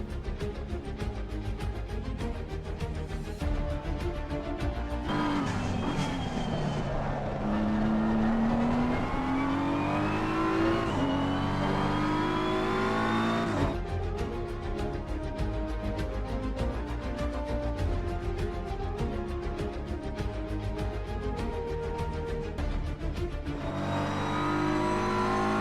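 BMW M4 GT3 race car accelerating downhill at the Nürburgring in Assetto Corsa Competizione, loud engine pitching up through the gears with sharp shifts, close and continuous, with no talking.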